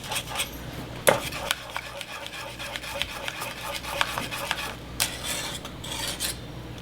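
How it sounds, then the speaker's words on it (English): A spoon stirs cheese into a béchamel sauce in a pot, a steady series of close scraping and rubbing strokes with occasional light clinks against the metal. "I'm gonna stir it in and let it slowly melt in."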